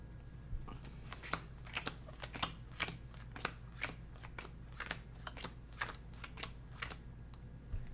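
Playing cards being dealt for a Snarkas card game, a steady run of crisp snapping flicks about twice a second over a low constant hum, fairly quiet and with no talking.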